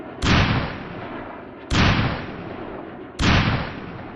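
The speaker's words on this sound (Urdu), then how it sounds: "2 دھماکے سنائی دیے، اور پھر تو پہ در پہ دھماکوں کی آوازیں آنے لگی" Three heavy explosions boom in turn at roughly even gaps, each a sudden loud blast with a deep rumbling tail that fades before the next. They form a dramatized sequence of blasts with no voices.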